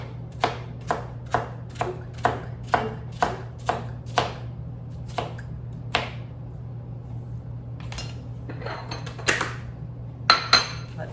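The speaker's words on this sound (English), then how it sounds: "then I like to chop them all up" Knife chopping vegetables on a cutting board for salad or spring rolls, a steady run of sharp close taps, then sparser irregular cuts and a few louder knocks near the end, over a constant low hum.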